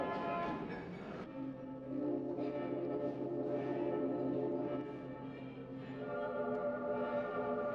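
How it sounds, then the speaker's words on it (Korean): Church bells ring out to celebrate nuns taking their vows, a steady sustained pealing with bright overtones that carries on for several seconds, joined by joyful singing. "하느님의 부르심에 또렷이 응답하는 허원 수녀들을 축하하는 종소리가 기쁜 노래와 함께 울려나온다"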